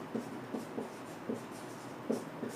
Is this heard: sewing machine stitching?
no